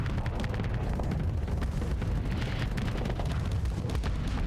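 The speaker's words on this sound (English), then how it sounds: "There's the Mark 9s firing in." Volleys from Mark 9 weapons in a space combat game: a thick, unbroken roar of overlapping booms and bursts at steady loudness, with no voices over it.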